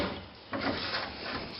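A wooden drawer on a bench desk slides open or shut, a short dry rubbing scrape that swells briefly halfway through, close by with no talk.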